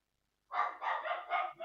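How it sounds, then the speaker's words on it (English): A dog barks loudly from the floor below in a quick run of about four close, sharp barks, with no voices over it. "I really hope you guys don't hear the dog going, you know, bonkers below"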